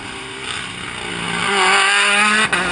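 Mini John Cooper Works rally car with upgraded engine and gearbox on a WRC France stage in Alsace, its engine loud and close, revving upward in pitch through a gear change and then cutting off briefly.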